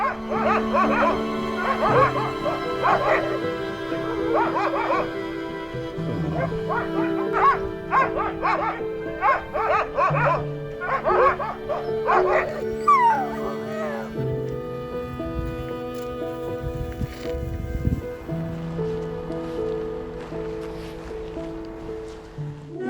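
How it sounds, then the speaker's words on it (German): Greenland sled dogs at feeding time bark, yip and howl in a loud chaotic chorus, many animals close by with overlapping calls and drawn-out howls, fading toward whining near the end. "Am Nachmittag nehmen wir an der Fütterung der grönländischen Schlittenhunde teil."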